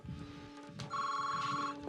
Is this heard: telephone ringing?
yes